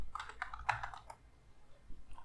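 Fingers type on a computer keyboard, a short quick burst of about six or seven crisp clicks followed by a pause and a faint final tap, close and quiet.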